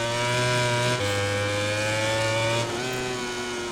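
Racing motorcycle engine in MotoGP 20 on a drying wet track, screaming at high revs with a quick gear change near one second and another shift later, loud and close throughout.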